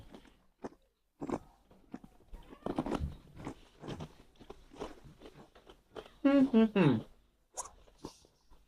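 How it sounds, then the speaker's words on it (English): Crisp crunching and biting of Swedish snack foods, close to the microphone, breaks up ongoing conversation as people chew, with bursts of louder crunches and some rustling. "we apologize if the microphones are picking all of this crunching up"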